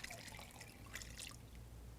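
Water poured into a slow cooker over diced onion, garlic and vegetable broth, a soft steady trickle and splash close by, faint and continuous with no talk.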